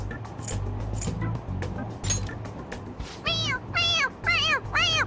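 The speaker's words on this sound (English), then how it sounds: "It meows when you press on its head." A squeezed toy cat gives several short electronic meows in quick succession, clear and close, after some handling noise and faint voices.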